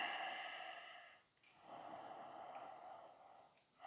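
Ujjayi breathing during an Ashtanga yoga practice: two long, audible ocean-like breaths through the throat, each sustained for over a second, with a brief pause between them, close and soft.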